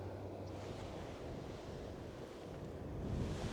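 Pacific Ocean surf rolling steadily against a rocky coast, a soft continuous wash of waves with some wind rumble, fairly distant and calm, swelling slightly near the end, with no voices.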